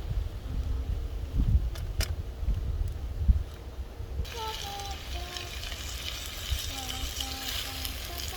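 A red Thai turkey curry simmers in a Trangia 27 stove pot in the woods, giving a steady soft bubbling sizzle with faint background hiss throughout.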